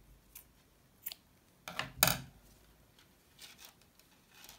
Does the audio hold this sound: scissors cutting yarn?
yes